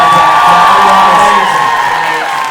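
An audience cheers, whoops and applauds for Zelda at a live dating-show taping, a loud, dense crowd roar that holds steady and fades slightly near the end.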